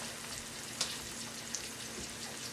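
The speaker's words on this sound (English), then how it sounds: "So I have my lunch meat in my skillet, and I want to brown my my lunch meat." Lunch meat browning in a skillet, a faint continuous sizzle with a couple of small pops, close but quiet.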